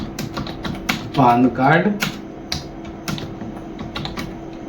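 Clicks of typing on a computer keyboard come in short, irregular bursts, close and moderately loud, with a person speaking Hindi over them in the middle.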